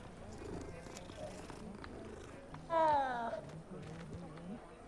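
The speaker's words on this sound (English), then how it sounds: "Oh, what a sweet kitty cat." A cat purrs in the video game Hogwarts Legacy, a soft rhythmic rumble under ambient game sounds, punctuated by a short, louder meow-like call near the middle.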